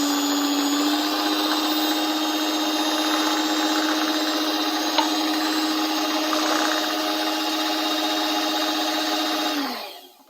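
An electric mixer beats cake batter as milk is added gradually, a steady high whirring hum held for about ten seconds before it winds down and stops.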